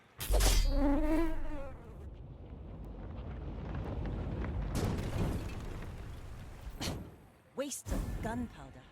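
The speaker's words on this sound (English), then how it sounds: "Just fight the mosquito." A mosquito buzzes in the card game The Bazaar, a thin whining drone under loud game effects and a voice talking over it, with sharp bursts of other sounds near the end.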